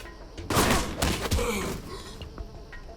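Gunfire in the stealth shooter Alpha Protocol, fired at an enemy near a camp: a few sharp, loud shots in quick succession with heavy booming impacts, then a quieter fading tail.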